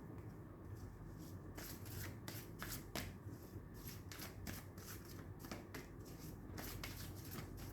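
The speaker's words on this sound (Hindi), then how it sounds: "एक कार्ड और लेते हैं इसी मूनोलॉजी डेक से" Moonology oracle cards being shuffled by hand in a steady run of soft riffling flutters and slaps, close and fairly loud, with a brief spoken word over them.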